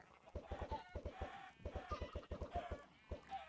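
Chickens cluck in the game Minecraft, in rapid bursts of short, evenly spaced clucks repeating several times, fairly close, with no talking.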